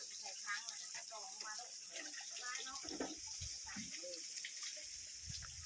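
Water flows steadily from a 12 V 150 W DC solar water pump, a continuous faint splashing gush, with someone talking over it throughout.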